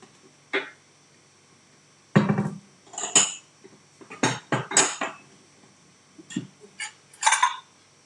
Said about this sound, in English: in a small bowl, you just take some Greek yogurt